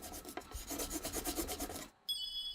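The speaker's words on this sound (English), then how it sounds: "he rubs the part where the bottom board will go to apply pressure" Steady rhythmic rubbing on mountain cherry wood where the bottom board will sit, a quick train of rasping back-and-forth strokes that stops briefly before a brighter scraping resumes, close and fairly quiet.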